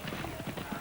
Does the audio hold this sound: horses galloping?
yes